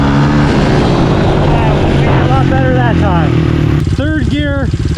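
A Honda CRF110 pit bike fitted with a 147cc big bore kit revs hard from a standstill in third gear, its loud engine climbing in pitch through repeated rising sweeps, with voices shouting over it.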